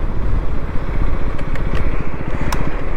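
KTM Duke 250 Gen 3 motorcycle engine running steadily up close, a loud continuous throbbing rumble with a few sharp clicks near the end, no voices.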